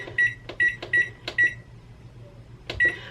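An oven control panel chirps as it is set to 425 degrees, a string of short, sharp electronic beeps mixed with button clicks, spaced unevenly with a pause before a final beep.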